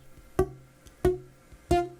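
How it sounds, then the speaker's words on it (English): Three dull, muted guitar notes plucked with weak fret contact, each a short thump that dies almost immediately instead of ringing, evenly spaced and quiet. "If you hear those little thumps, that's a sound of you not making firm enough contact on that particular fret."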